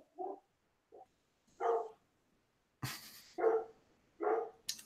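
A dog named Bentley barks in a run of short, close, loud woofs, about six separate barks spaced irregularly, with one sharper yip near the middle and quiet gaps between.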